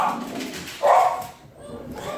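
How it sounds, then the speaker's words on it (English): Household dogs barking excitedly indoors, a short muffled bark burst amid yips and whimpers, with a person talking over them. "the dogs are going crazy"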